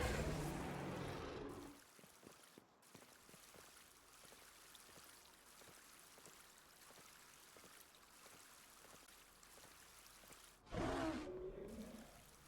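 Water flows and trickles in Palworld as a soft, steady stream with faint dripping ticks, quiet and continuous between two brief louder rushes at the start and end.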